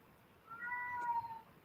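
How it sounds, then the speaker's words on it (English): A pet cat, wanting to go outside, lets out a single drawn-out meow, faint and somewhat distant against a quiet indoor background. "Sorry if you guys can hear my cat. He wants to go outside."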